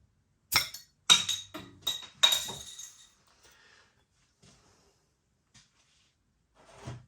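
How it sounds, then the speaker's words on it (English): A bottle of M&S Spanish lager with a black cap is handled and poured into a glass: several sharp clinks and knocks of glass up close, then quieter faint pouring and small taps trailing off. "Let's get it out into a glass and see what we get"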